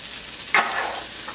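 Shallots and garlic sauté in melted butter, a steady bright sizzle that runs throughout, with one brief sharper burst near the start as the pan is stirred.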